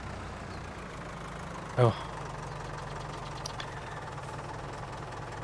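A tractor engine left idling in Farming Simulator 22: a steady, low, knocking mechanical hum that runs the whole time, with a short vocal exclamation over it.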